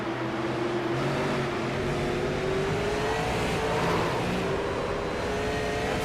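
A super late model race car at Lakeland, running under throttle on track, produces a loud engine note that climbs steadily in pitch over continuous mechanical roar, with no talking.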